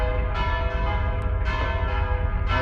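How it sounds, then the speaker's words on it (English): Loud church bells in the video game Mon Bazou clang repeatedly in a steady, ringing overlapping peal, close and dominant with no talking. "Those bells were freaking loud."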